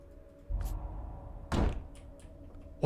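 A door opens in a quiet room with a couple of dull thunks and a louder bump near the middle, close by and with no talk.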